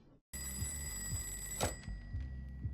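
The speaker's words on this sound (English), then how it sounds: "That's a great ringtone." A phone ringtone from The Sopranos sounds after a brief silence, an electronic tone repeating in a steady pulsing pattern at moderate loudness, with no one speaking.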